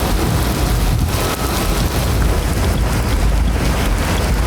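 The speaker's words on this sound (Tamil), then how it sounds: "கடலூர் மாவட்டத்தில் நேற்றிரவு முழுவதும் இடி மின்னலுடன் கூடிய கனமழை பெய்தது." Heavy overnight rain in Cuddalore district: a dense, loud, unbroken roar of downpour with a wind-like rumble. No distinct thunderclap stands out, and nobody talks.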